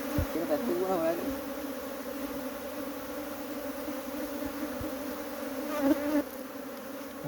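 A bee colony clinging to a rock buzzes steadily in a dense, continuous drone close by, with brief swells and a few faint voices underneath.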